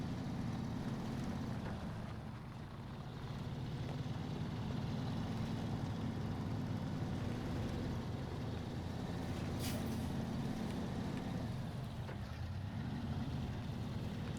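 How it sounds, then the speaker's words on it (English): A heavy truck engine drones in a steady low rumble as its rear wheels spin in mud in the game SnowRunner, continuous and fairly even with a brief hiss midway. "You can see the rear wheels kind of spinning there."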